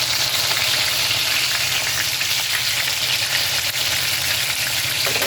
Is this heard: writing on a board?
no